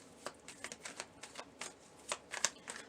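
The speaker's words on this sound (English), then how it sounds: "I'm going to pull a few cards for clarity here" Tarot cards shuffled for a reading, a run of crisp riffling bursts and soft slaps at close range, uneven in rhythm, with no talk.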